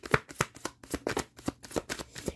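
Tarot cards being shuffled by hand, a quick run of about ten crisp riffling bursts in a steady rhythm, close and fairly quiet, with no talking.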